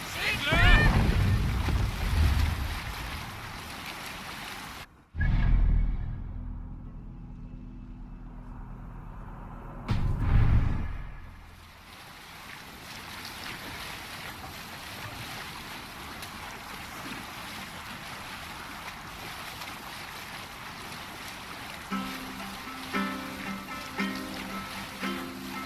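A Viking longship sailing the open sea in Assassin's Creed Valhalla, with steady wind and rushing water across the whole stretch, broken by two abrupt cuts and brief louder splashes, and faint music rising near the end.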